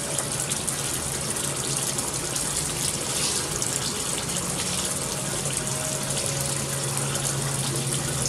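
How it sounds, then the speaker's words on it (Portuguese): Pre-wash water wrung by hand from dirty socks, a steady splashing, gushing stream of water falling close by for the whole stretch, with no voices. "Eu tô aqui espremendo a água da pré-lavagem."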